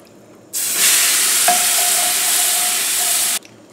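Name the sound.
stirring turkey pan juices to make gravy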